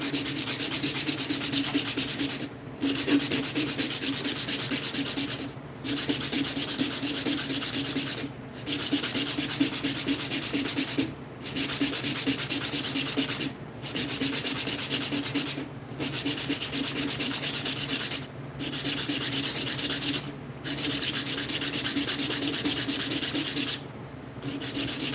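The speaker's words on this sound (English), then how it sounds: "we're just going to give this a speed sand and see if we can get it down to the size we want it to" Hand sanding a small wooden pendant with hand tools only: steady, rough rubbing strokes in long bursts broken by brief regular pauses, close and even, with no voices.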